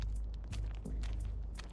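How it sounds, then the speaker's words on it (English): Slow, wary footsteps in the Reverse: 1999 video game, a few soft muffled steps set in a dense, low, rumbling ambient bed. "the distant sound they hear this time is of slower and warier footprints"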